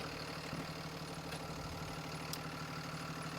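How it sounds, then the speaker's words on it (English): Big bus diesel engine idling steadily during an under-hood pre-trip inspection, a low, even rumble with a faint rhythmic knock, close and constant, with no talking. "This is done with the engine running."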